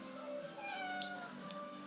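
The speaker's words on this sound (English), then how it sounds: "have a cat meowing at me" A house cat meows at close range, several drawn-out rising and falling cries over about two seconds, heard on its own with no talking.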